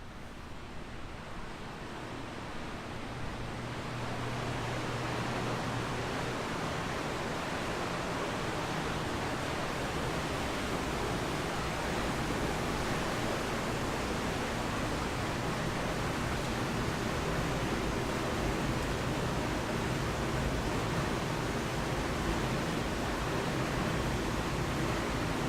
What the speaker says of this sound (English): we're going to take you behind the scenes in the UV building. It gets really loud